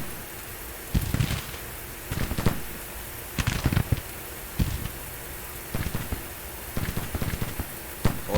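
Infantry gunfire in a Civil War battle game set at Mobile, Alabama: scattered musket shots crackle in irregular bursts, some close and sharp, over a constant hissing rumble of distant firing.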